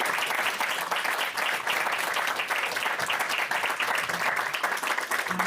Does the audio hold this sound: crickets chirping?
no